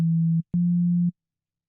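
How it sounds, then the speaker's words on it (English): A static sine-wave C note from an FM synth operator sounds as a pure, steady, low tone, played twice: a short hold, a brief gap, then a slightly longer hold before silence. "here in operator I have one sine wave, static sine wave. As you can see here, I'm pressing the C note."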